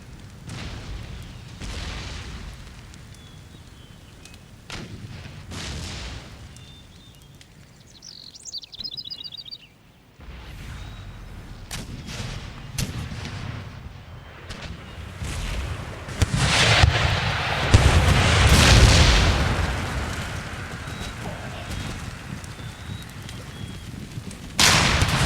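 Howitzer and artillery fire in Empire: Total War during a battle for Munich, scattered booms and thuds over a busy battlefield bed, building to a louder cluster of blasts near the end.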